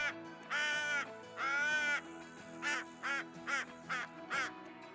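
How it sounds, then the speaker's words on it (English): Crow caller blown during a turkey hunt in the Call of the Wild game, giving two long drawn caws followed by four shorter, clipped caws in a steady series, loud and alone. "we just put out a call with the crow caller"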